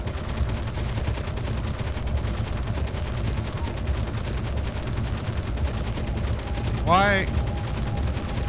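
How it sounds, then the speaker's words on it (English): Sustained automatic gunfire in the video game Space Engineers, a dense rapid rattle of shots running throughout, with a voice briefly speaking over it. "What are you shooting at?"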